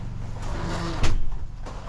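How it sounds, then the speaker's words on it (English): A door in a small cabin kitchen swings and shuts with a soft thud partway through, amid close, low-level room noise. "Let me shut the door."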